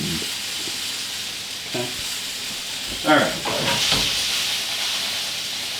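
Chicken frying in a pan gives off a steady, close, hissing sizzle throughout, with a few brief stirring or scraping sounds and a short spoken word partway through.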